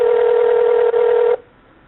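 Telephone call placed to a house landline: a steady, loud ringback tone holds for over a second with a brief dip midway, then cuts off abruptly into quiet line hiss.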